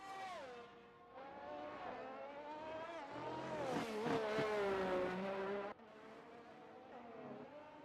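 Formula 1 race car in a simulated Mexico Grand Prix, its high-pitched engine whining and climbing through the gears on a flying lap, then cutting abruptly as it shifts and pulls away, loud and steady with no voices.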